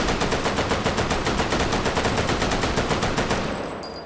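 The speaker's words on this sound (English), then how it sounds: "the LMG is upping the potential to a 10 round burst at around 500 RPM" A light machine gun in RimWorld with the Combat Extended mod fires a sustained rapid burst of evenly spaced shots, loud and steady at roughly 500 rounds per minute, then a brief tail fades out.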